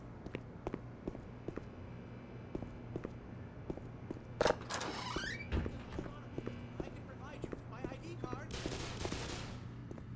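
Rapid gunfire in the video game Black Mesa as zombie scientists are shot, repeated sharp cracks and bursts over a steady background hum, with a brief louder blast midway.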